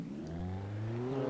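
Car in Alan Wake driving along a road at night, a steady mid-pitched engine hum that rises slowly in pitch as it accelerates, close and continuous without talk.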